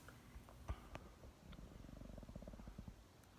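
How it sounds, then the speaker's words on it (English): Tobie, a pet cat, purrs softly while asleep, a close, steady rhythmic rumble of repeated pulses building through the second half with a faint click early on. "Oh, my cat's right here."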